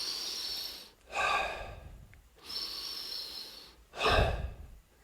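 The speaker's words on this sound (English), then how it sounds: "the Kundalini breathwork, he talks about like spinal breathing" Kundalini spinal breathing: three slow, deep breaths in and out, each a long airy rush separated by short pauses, the last exhale the loudest, close up with no talking.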